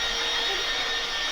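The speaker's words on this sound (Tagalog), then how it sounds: "Maglimpyo, mag-vacuum." A vacuum cleaner runs steadily while floors are cleaned indoors, a continuous loud whining drone with no change in pitch and no voices.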